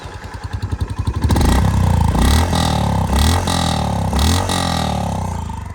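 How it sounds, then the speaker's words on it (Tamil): A 2025 Honda CB350RS motorcycle fires up and settles into a loud, deep, throbbing exhaust rumble, with slight swells as the throttle is blipped, heard close and without talk. "நான் உங்களுக்கு அந்த எக்ஸாஸ்ட் நோட்டை காட்டிடுறேன்"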